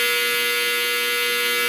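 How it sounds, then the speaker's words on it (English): A clothes dryer buzzer blares loud and steady, a harsh sustained electronic tone with no break, heard close and alone. "it's my dryer."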